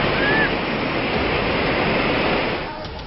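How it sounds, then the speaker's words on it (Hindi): Fast-flowing flooded river water rushes in a dense, continuous roar, loud and close throughout, easing slightly in the final moments. "अचानक से पानी का बहाव तेज हो गया"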